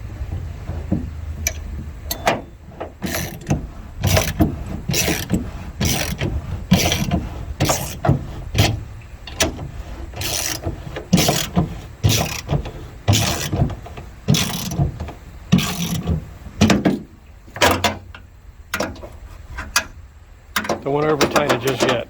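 A wrench ratchets in quick clicking bursts while tightening a custom trolling motor mount, close and loud, the strokes stopping and starting repeatedly with brief pauses and occasional talk between them.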